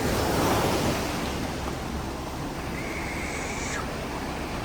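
Waves wash against shoreline rocks in a constant rushing roar, slightly stronger at the start, with wind buffeting the microphone and no one speaking.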